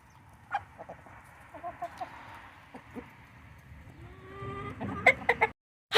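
Backyard chickens cluck softly at dinner time, with scattered nearby clucks and low murmuring calls that grow busier toward the end, ending in a few sharper noises.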